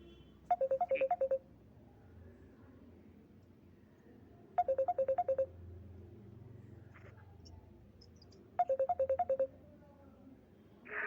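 A mobile phone rings with an incoming call, its electronic ringtone repeating in three distinct rapid bursts a few seconds apart, fairly clear above a quiet room background.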